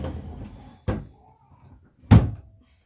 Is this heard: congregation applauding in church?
no